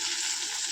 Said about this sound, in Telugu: హాయ్ ఫ్రెండ్స్, మునగాకు ఫ్రై చేస్తున్నా.